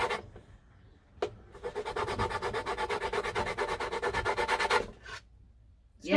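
A lemon's zest is scraped with steady rhythmic strokes, a close, raspy rubbing that starts with a couple of single scrapes before a fast, even run of about three seconds and then stops.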